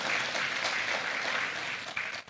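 A church congregation at a Sunday worship service claps and cheers in a dense, steady burst of applause that fades slightly at the end.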